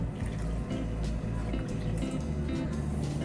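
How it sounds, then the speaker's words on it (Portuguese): Cold water poured into a bowl of chocolate dessert mixture made with cocoa, cornstarch and instant coffee, giving a steady, continuous liquid splash and trickle close by, with no talking. "E vamos agora adicionar 675 ml de água fria."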